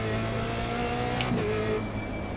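Steady engine drone of a Formula Renault 2.0 race car in iRacing at Brands Hatch, a constant, even tone throughout with a slight change in pitch near the end and no talk.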